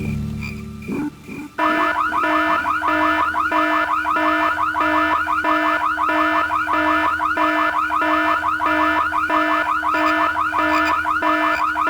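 In the MS-DOS game Full Throttle, an alarm starts abruptly and then blares continuously in a fast, rhythmic, pulsing electronic wail, loud and unbroken after a brief opening scuffle.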